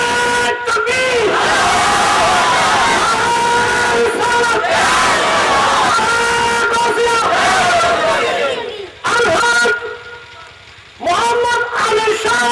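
Large crowd at a Bangladeshi madrasa religious gathering chanting Allahu Akbar in unison after a takbir call, a loud, sustained roar of many voices with a short dip before the chant swells again.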